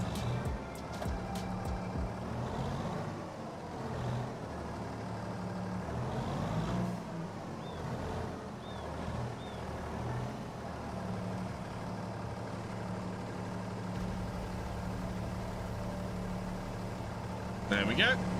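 A vehicle reverses in Farming Simulator 25, its engine idling steadily with a low, continuous hum throughout and a voice talking over it.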